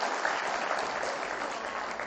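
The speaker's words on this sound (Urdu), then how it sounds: "ایک بار سب لوگ تالی بجا دیجیے ذرا" Audience at a mushaira poetry gathering in Patiyala, Punjab, bursting into steady, dense applause that fills the short stretch without a pause, loud and close, with no talk over it.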